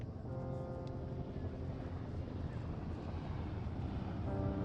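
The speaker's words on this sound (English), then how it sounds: "There's the helicopter." A helicopter in Firewatch comes in as a steady, dense mechanical drone of rotor and engine noise, loud and continuous and growing slightly stronger toward the end, with no talking over it.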